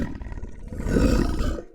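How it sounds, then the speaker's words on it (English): A deep, loud beast roar sound effect, one sustained growling blast that swells, peaks and trails off, heard close and alone without any talk. "Let's do Beast Roar."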